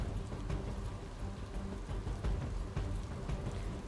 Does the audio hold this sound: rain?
yes